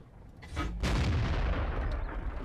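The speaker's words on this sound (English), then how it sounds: "now the artillery is focusing a bit more now, and that's a good solid hit" Artillery shells landing in a World of Tanks battle, a sharp boom followed by a sustained rumbling roar close by, with no talk over it.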